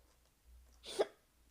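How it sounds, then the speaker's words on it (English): A single short hiccup from a person, faint and close in a quiet room, with a low fan hum underneath. "Can I stop with these hiccups, man?"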